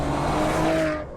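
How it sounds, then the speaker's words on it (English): A Maserati engine and exhaust rev hard as the gas pedal is pushed, a loud, close, rising tone that holds steady and then drops away near the end, with no talk. "your exhaust system is able to inform you that you are driving a Maserati."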